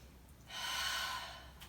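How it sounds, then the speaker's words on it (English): A single deep breath taken while holding a Pilates side plank, a soft, steady airy rush that swells up, holds for about a second, then fades, close and alone with no talking. "Take a breath."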